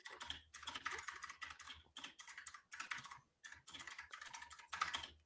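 Close, quiet rapid tapping on a computer keyboard in several bursts of fast keystrokes separated by brief pauses, with no speech.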